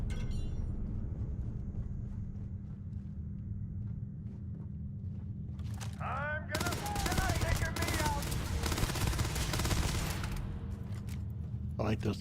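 Rapid automatic gunfire from a gun in the space video game Starfield, a dense sustained burst of loud shots in the second half, following footsteps and low ambient rumble.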